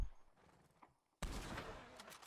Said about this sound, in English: So 5 shots with the Carcano at this distance